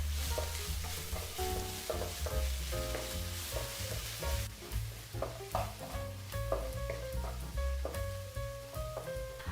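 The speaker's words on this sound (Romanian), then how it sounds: "Dăm prin răzătoare 5 căței de usturoi. Și la fel îi călim pentru 1 minut." Five cloves of grated garlic sizzle steadily in a pan, a continuous close frying hiss broken by the scrape and clink of stirring, with no voices.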